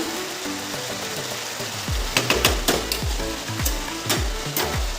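Potatoes sizzle and fry steadily in a pan, with stirring clatters and scrapes from about two seconds on, close and fairly loud with no talk.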